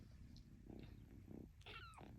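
A pet cat meows twice in a quiet room, the second call a clear rising-and-falling cry near the end, soft and close with faint background hum.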